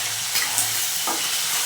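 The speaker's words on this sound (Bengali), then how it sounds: "এখন এই চিংড়ি মাছগুলোকে ভেজে নিচ্ছি।" Prawns sizzle steadily in a hot pan, a bright continuous crackle with faint stirring scrapes close by.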